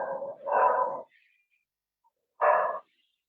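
A dog barks twice: a doubled bark at the start, then a single bark after a short pause, fairly close, with no speech over it.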